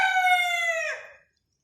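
A rooster gives one loud, close crow that falls away into silence, alone with no talk.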